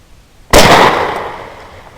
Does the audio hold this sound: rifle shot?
yes